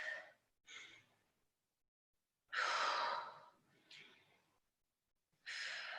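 Deep breathing during a Pilates exercise: several loud, breathy inhales and exhales come in uneven bursts with short silent gaps between them.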